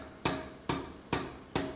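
A power hammer strikes hot steel on a handmade swage, shaping it to a triangular section for an Anglo-Saxon stirrup, with four evenly spaced heavy thuds, each trailing off before the next.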